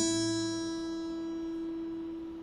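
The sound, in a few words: guitar high E string played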